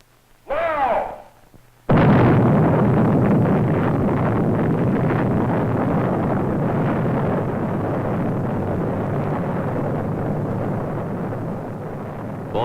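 The first atomic bomb test detonation: a sharp blast, then a loud, sustained roaring rumble that fills the rest of the clip, with no voices.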